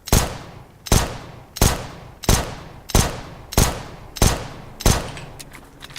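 Seven sharp pistol shots from a P250 in the video game CS:GO fire one by one at a steady pace, each loud, near and crisp with a short ringing tail before the next.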